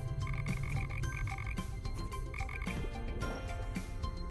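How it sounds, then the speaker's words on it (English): Frog croaking in repeated short, raspy pulses, fairly close and steady, with no talk over it. "Frog."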